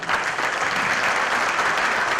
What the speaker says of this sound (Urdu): مجھے اچھا لگا خواتین کے ساتھ حضرات کی بھی تالیاں بجائیں۔